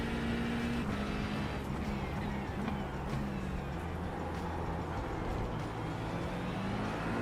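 McLaren race car in a racing video game, its engine droning steadily and loud throughout with harmonic pitch shifting slightly up and down as it drives, continuous with no pauses.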